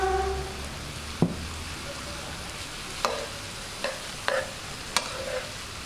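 Dried rice fries with tomato and spices in a pan, giving a soft continuous sizzle broken by several sharp scraping knocks of a spoon stirring against the pot.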